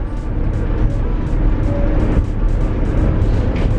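Steady, loud road and engine rumble fills the inside of a van with no sound deadening as it drives, a continuous low roar with no breaks.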